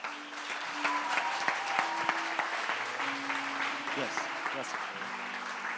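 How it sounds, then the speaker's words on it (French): A church congregation at a French-language sermon claps and cheers steadily, with a voice speaking over the applause. "Est-ce qu'on peut acclamer le Seigneur pour nous?"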